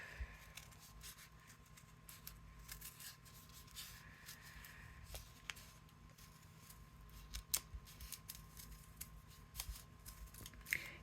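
Scissors snipping through thick paper from a 6x6 paper pad while making paper flowers, a quiet close run of repeated crunchy cuts and rustles with no talking.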